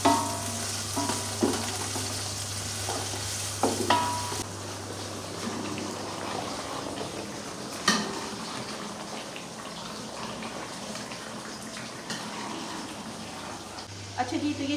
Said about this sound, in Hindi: अब इसके अंदर अदरक लहसुन डालते हैं, जो कि है मेरे पास 3 चम्मच। इसको भी ब्राउन कर लेंगे